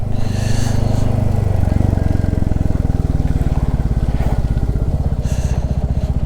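A Hero Xtreme 125R motorcycle ridden on a slippery mountain road toward Manali, its engine throbbing loud and close with a steady pulsing rhythm throughout, rising slightly as it pulls.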